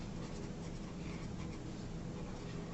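Pen or marker scratching out a chemical formula by hand, a quiet continuous stroking and scraping close to the pickup for a few seconds, with no speech.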